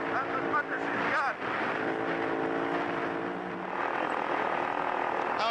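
A Dakar rally vehicle engine runs at full throttle, a steady loud drone with harmonic whine, brief dips around the one-second mark, with a voice speaking over it throughout.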